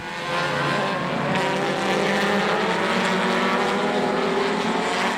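Race cars at the 2009 SCCA June Sprints in the EP, FP, HP and GTL classes roaring past on track, a loud, dense, sustained engine drone with shifting pitch and no letup.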